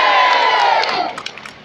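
A street show crowd cheers and shouts loudly at close range, the roar fading into scattered whoops and a few claps.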